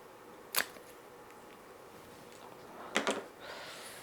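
Sterilized scissors cut through a Chinese Evergreen stem: one crisp snip, then a short pause, then two quick close snips in a quiet room.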